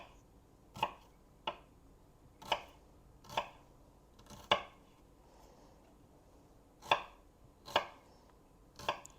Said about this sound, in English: It says to cut these thinly.